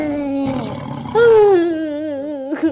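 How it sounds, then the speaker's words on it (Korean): A tiger in a children's story gives a loud, drawn-out roar that rises into a strained, wavering growl and fades to a rumble, with no talk over it. "호랑이 소리 같기도 하고."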